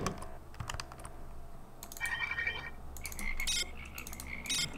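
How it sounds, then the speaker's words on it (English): A frog croaks in the video game System Shock, several quick rattling croaks rising over a low ambient hum, alongside clicky keyboard-like tapping. "That's a frog, probably"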